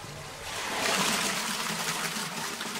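Very slightly radioactive water trickling at the bottom of a mine in the Czech Republic, a steady close hiss of running water that swells slightly and holds without pause.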